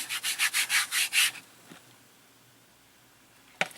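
Paint is rubbed into a canvas by hand, a run of about seven rhythmic, rasping strokes close by, followed by quiet and one short scrape near the end.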